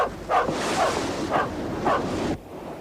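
A dog barks in several separate woofs spaced about a second apart, fairly close, over a steady rushing wash of wind and sea surf.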